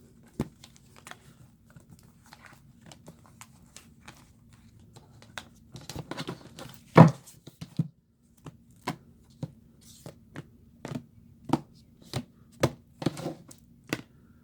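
Tarot cards shuffled by hand, a series of crisp riffling and tapping bursts that grow denser and louder partway through, close up over a low steady hum.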